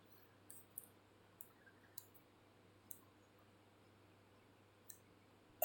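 Light typing on a computer keyboard, a sparse run of soft, quiet clicks spaced irregularly over a low background hum.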